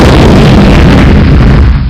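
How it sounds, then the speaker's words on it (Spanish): A loud explosion sound effect bursts close and full, a heavy booming blast with a rumbling body that holds for nearly two seconds before cutting off sharply. "una gran explosión"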